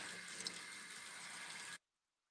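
Cold shower water running in a steady rushing hiss that cuts off abruptly near the end.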